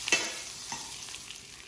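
Meat pan frying in a hot pan, a steady close sizzle with crackling spits, alone without talk.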